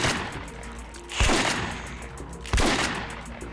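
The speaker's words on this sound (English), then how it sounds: "Kristoff has no idea how to operate this shotgun." Shotgun blasts in the video game Vampire: The Masquerade – Redemption: two loud, booming shots about a second and a half apart, each with a lingering rumbling tail.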